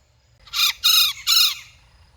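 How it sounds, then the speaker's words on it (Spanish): A black-fronted piping guan (yacutinga), an endangered bird, gives three loud, harsh squawking calls in quick succession near Iguazú, each about a third of a second long, close and clear over a faint low background rumble. "la yacutinga que está aquí, que les acabo de grabar, está en peligro de extinción"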